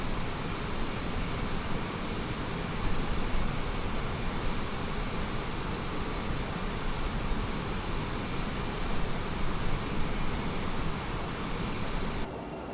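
Steady, loud roar of CRJ jet airliner engines at idle thrust in an Aerosoft CRJ flight simulator, a continuous broadband rumble and whine with no talk, holding even for the whole stretch.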